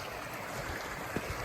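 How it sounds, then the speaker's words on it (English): A flooded creek flows in a field, a steady full-band rush of water with small splashes, continuous and fairly near, with no talking. "You can see just how much this freaking creek is flowing"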